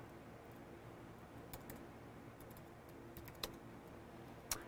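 Faint computer keyboard typing at a network configuration terminal, a few sparse key clicks scattered over a steady background hiss, with a couple of sharper taps near the end.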